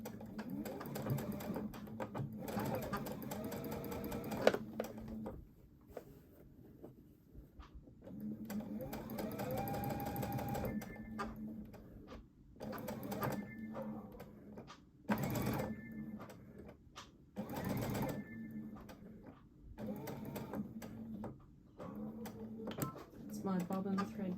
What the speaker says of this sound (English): I'm going to just sew across this bottom to hold it in place